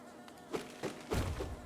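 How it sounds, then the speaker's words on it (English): Buzzing bees in Hollow Knight near the entrance of Kingdom's Edge, a few short droning swells rising over a soft game ambience. "More bees!"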